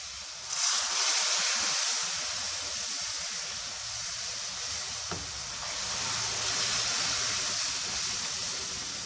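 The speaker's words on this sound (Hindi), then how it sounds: "ये देखिए अब थोड़ा थोड़ा करके मैं इसमें शीरा डाल रही हूँ।" Sugar syrup poured into hot moong dal halwa gives a loud, steady sizzle and hiss that holds for several seconds, with one sharp pop partway through.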